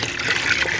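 Water that has been treated with dolomite lime for a biofloc fish pond is poured through a strainer, a loud, close, continuous gush and trickle.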